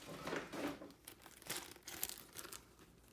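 A Supreme package is opened by hand, with quiet crinkling and tearing of plastic wrapping in several short, uneven bursts, close up and soft, no voices.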